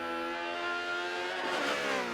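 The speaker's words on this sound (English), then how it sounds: "he's still revving it up" A Ferrari race car in a Forza racing game at Le Mans, its engine holding a loud, steady high rev with dense harmonics that swell slightly near the end, with no voices over it.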